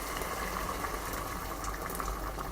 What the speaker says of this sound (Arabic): الحين بسم الله الرحمن الرحيم نحط الماء الحار